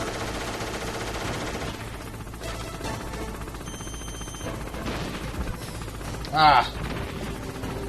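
Bursts of gunfire from a weapon in Metal Gear Solid, rapid rattling shots under game sounds and a short exclaiming voice, with one sharper loud burst near the end.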